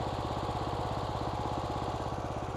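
A BCS 630 WS two-wheel flail mower's engine idles steadily at low throttle with the flail disengaged, a close, even, rapidly pulsing putter with no voice over it.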